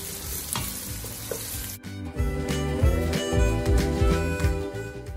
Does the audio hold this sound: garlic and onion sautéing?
yes